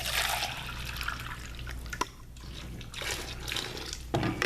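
Homemade lotion pours and dribbles steadily into containers, a close, continuous liquid trickle with a few brief drips and a short pause partway through.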